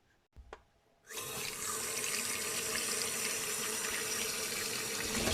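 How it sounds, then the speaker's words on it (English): Cold tap water gushes steadily into a sink as potatoes are rinsed, a loud continuous splashing stream that starts abruptly after a couple of soft clunks and runs without pause. "I'm going to rinse these under some cold water"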